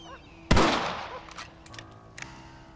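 A single sharp, loud rifle shot from the video game Red Dead Redemption bursts out and rings down over a moment, followed by a few faint clicks and rattles.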